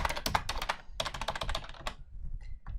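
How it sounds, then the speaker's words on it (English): Quick bursts of keystrokes clatter on a computer keyboard as a note is typed, near and crisp, with short pauses between runs and no talk. "you can just go and type in your note"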